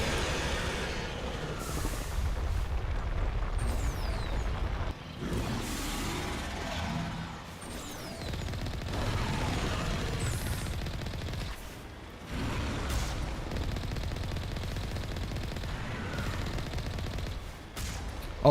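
Enemy gunfire in Mass Effect 1, dense bursts of rapid shots crackling in several long volleys with short pauses between them, loud and close, no voices over it.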